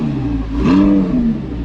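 Nissan TDS car engine revving in a short burst, a close mid-pitched roar rising and falling once over steady engine hum.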